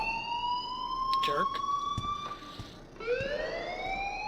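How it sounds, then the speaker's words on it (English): A fire alarm in the video game Life is Strange sounds as a steady electronic tone with bright overtones, holding level and then dipping and rising again, while a voice speaks over it. "please turn off that alarm since that's your job"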